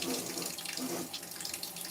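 Steady tap water running into a sink, a continuous close, full-band hiss and splash that holds evenly from start to finish with no talking.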